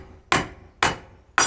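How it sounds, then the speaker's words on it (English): Three sharp metallic hammer strikes, about half a second apart, tap on the top of a thru-hull fish finder transducer to knock it loose from a boat hull, each hit close and loud with a quick decay. "now we want to hit the top of the transducer with a hammer"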